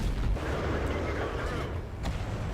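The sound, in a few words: tank cannon firing in video game World of Tanks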